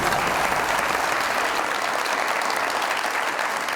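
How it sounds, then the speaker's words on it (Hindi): Sustained, dense audience applause at a televised comedy show in a studio, steady and loud throughout with no pauses. "तालियां मरियम के लिए।"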